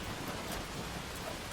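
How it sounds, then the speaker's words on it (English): Steady, soft rain falling outside, a faint even hiss of drops without a break and with no voices. "the rain outside begins to soften"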